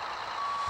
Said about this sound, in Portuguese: Nossa, eu vou botar o caminhão pra trás.